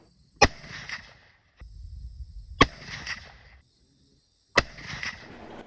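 Three loud rifle shots fired one at a time, a couple of seconds apart, with 100 grain Barnes White Hot bullets, each a sharp crack trailing into a rumbling echo, with no talking.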